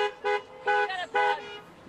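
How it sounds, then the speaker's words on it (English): Car horns honk in a traffic jam on Seattle's Alaskan Way Viaduct during its final closure, three loud toots in quick succession, close by and standing clear of any talk. "There are people that are just honking."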